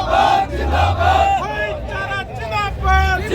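Large pension-restoration protest crowd at Ramlila Maidan in Delhi chanting slogans in loud, rhythmic unison, voices rising and falling in repeated waves over a dense background roar.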